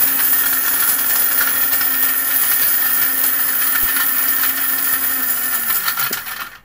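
An electric blender grinds spices into powder with a loud, steady high-pitched whir that runs unbroken before winding down at the end.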